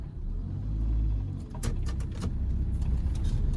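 A learner driver's car engine in a lesson, a low rumbling idle swelling and then shifting into a rougher, busier drone as the car pulls away, close and fairly loud.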